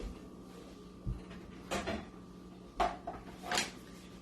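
A Tupperware microwave steamer is pulled out and handled in a kitchen, giving a few separate plastic clunks and knocks against a steady low hum.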